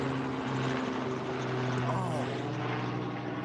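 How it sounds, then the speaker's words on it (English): A helicopter passing overhead, its steady rotor drone and low engine hum filling the whole moment at a constant, fairly loud level with faint background chatter. "Yeah, I know it's helicopter."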